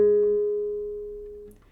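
A G sharp on a guitar's third string, first fret, is plucked once and rings as a single clear sustained note that gradually decays until it is cut off.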